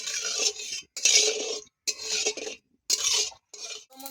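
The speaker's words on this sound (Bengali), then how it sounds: "গোটা গরম মশলা দিয়ে দেবো।" Whole garam masala spices are stirred in hot oil in a wok, heard as loud, rhythmic metallic scraping strokes from a spoon against the pan, five sweeps separated by short pauses.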